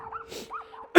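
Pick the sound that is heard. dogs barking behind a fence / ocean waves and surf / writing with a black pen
dogs barking behind a fence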